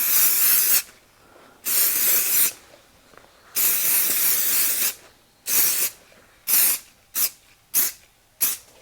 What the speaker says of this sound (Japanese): サフィーヌのスエードケア用のスプレーなんですけど、ちょっとこれ全体にかけときますね